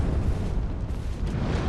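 Rumbling, continuous explosions in the video game Bloodborne, a dense low-heavy roar with bursts layered throughout, loud and sustained with no talk.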